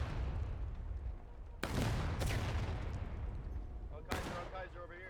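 Distant volleys of gunfire in a large-scale multiplayer battle game, sharp cracks at intervals over a constant rumbling background of battle noise, moderately faint, with a voice talking over it.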